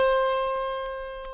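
One plucked autoharp string, the middle-octave A sharp, rings clearly alone as a bright sustained note that gradually decays.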